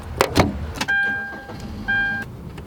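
Inside a car, a couple of close thumps and knocks are followed by two sustained electronic chime tones, each lasting about half a second, with no talking.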